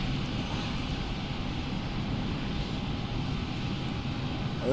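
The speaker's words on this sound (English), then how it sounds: "while the plane is spooling up" Airplane engine in a flight simulator game spooling up, a steady broad roar with a faint constant whine, even and continuous throughout, no talk.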